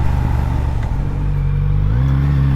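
Triumph Speed Twin 1200 parallel-twin motorcycle engine accelerating hard, a loud, close, deep rising roar with a gear change partway through, no voices.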